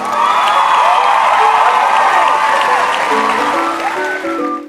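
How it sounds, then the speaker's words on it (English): Loud, continuous applause and cheering from a crowd of children at a kids' Bible show, with whoops and shouts sustained throughout. "Let us clap and give a big cheer for Serafina and her amazing bearded dragon,"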